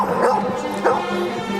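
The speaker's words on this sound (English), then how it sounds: "there's the goodest dog in the world" Dog barking and whimpering in the period drama Downton Abbey, a few short yips and bow-wow sounds up close, mixed with speech and background score.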